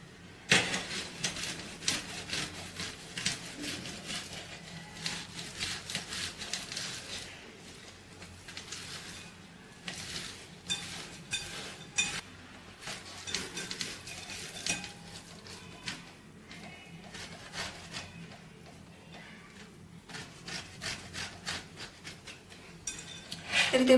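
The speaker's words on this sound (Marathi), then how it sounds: "आता एक किसणीच्या मदतीने हे बटाटे आपण किसून घेऊयात" Boiled potatoes being grated on the large side of a grater, with repeated quiet scraping strokes in an uneven rhythm that continues the whole time and a few louder scrapes near the end.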